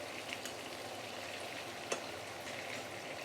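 Prawns sizzle steadily in hot oil in a home kitchen pan, a continuous crackling frying noise with occasional sharp pops, close and alone without talking.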